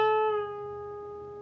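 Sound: electric guitar string bend at 14th fret, released

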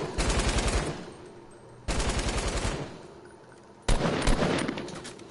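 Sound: gunfire in a video game, hand cannon

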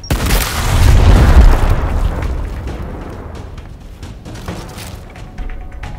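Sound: frag grenade explosion in video game Gears Tactics

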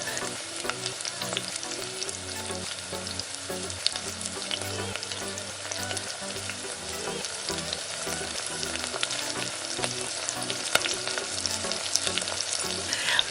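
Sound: marinated chicken pieces shallow frying in oil

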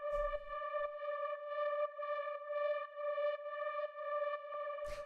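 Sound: FM pad synth drone holding D note

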